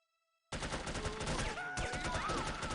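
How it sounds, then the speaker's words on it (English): Rapid automatic gunfire bursts out suddenly and loudly in the spy shooter No One Lives Forever, a sustained rattle of shots with some whistling tones mixed in. "Who's fucking shooting me?"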